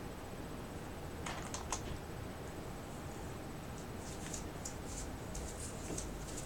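Typing on a computer keyboard while writing code, a few clustered keystrokes and then a quicker run of soft, close taps over a steady background hiss.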